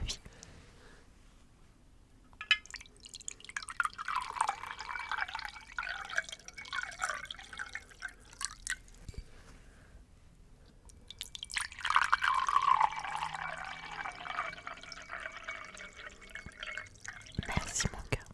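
Water trickles and drips from a carafe holding charcoal for filtering, in two faint pouring bursts separated by quiet pauses, with a sharp tap near the end.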